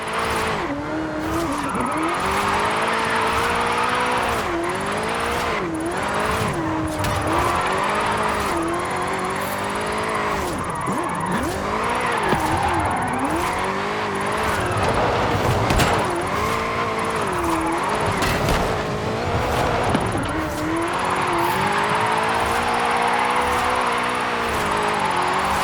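Car drifting in Forza Horizon 5 in Mexico, with a loud, continuous engine roar that rises and falls with revving and long squealing tire slides, constant and close throughout.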